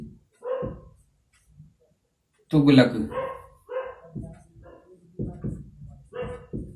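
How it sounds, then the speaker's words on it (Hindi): Village dogs bark and yelp in scattered bursts, fairly close, mixed with someone speaking Hindi in a lesson over the noise. "यहाँ पे कुत्ते वुत्ते बहुत चिल्लाते रहते हैं ना"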